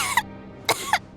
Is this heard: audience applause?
no